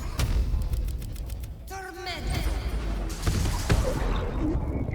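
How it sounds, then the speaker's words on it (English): A magic missile spell cast at level 3 in Baldur's Gate 3 rips out as a quick volley of zapping bolts, followed by a whooshing, warbling magical flourish and fainter impacts that fade out. "We got level 3 magic missile."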